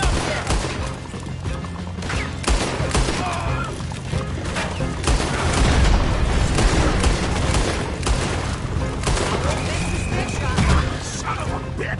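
Dense, loud gunfire erupts during a Red Dead Redemption 2 shootout, rapid overlapping shots and crashes sustained throughout, mixed with shouting voices and game noise.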